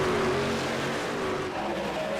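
Several NASCAR-style trucks race in a tight pack at Rockingham Speedway in the iRacing sim, their engines droning loud and steady together with whining pitch shifts and no break.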